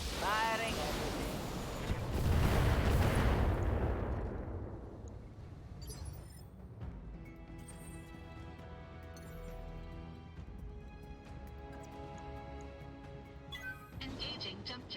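Battletech mech firing all its weapons at once, a loud heavy burst of blasts and crashes in the first few seconds that fades into a lower rumble with scattered impacts, game music or effects continuing under it.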